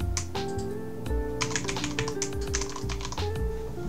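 Rapid, irregular keystrokes on a computer keyboard while JavaScript code is typed, close and clear over a steady background of sustained tonal hum.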